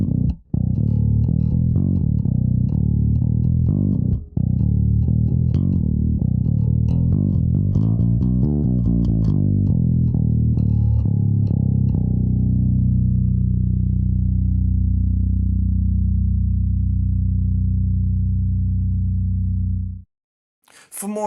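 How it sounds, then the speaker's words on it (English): Low B string of a Cort A5 Ultra Ash 5-string bass, bridge pickup slightly louder than the front, plucked alone with a deep sustained note that rings steadily for about twenty seconds before cutting off. "Let's listen to that low B string."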